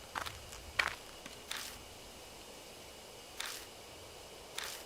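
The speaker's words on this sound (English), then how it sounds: "Just then, there are footsteps close by, from the bushes." Sparse footsteps rustle through bushes in the horror visual novel Death Mark, five soft, irregularly spaced steps close by against a quiet background.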